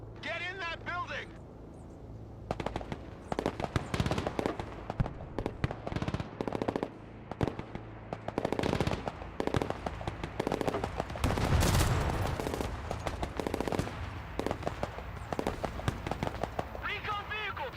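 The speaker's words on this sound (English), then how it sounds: "Recon vehicle taking fire over here." Gunfire rakes a recon vehicle in the Broken Arrow war game, with rapid machine-gun bursts and scattered shots cracking loud and close in irregular volleys, mixed with shouting voices.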